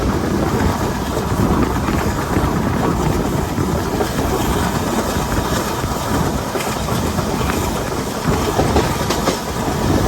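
Inside a general class coach of a diesel train on the way to Virudhunagar, a loud steady rumble and roar of the moving train with faint rhythmic clatter of the wheels on the track, and no voices.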